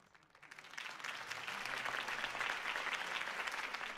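Crowd applause rises quickly and holds as a steady, dense clapping, following a campaign speech by Harvey Dent in the Batman Telltale video game.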